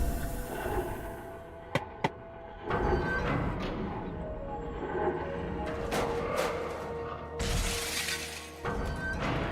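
Repeated smashing and shattering crashes break out in bursts, with sharp cracks near the start and a loud crash of breaking material toward the end, over a busy mechanical background.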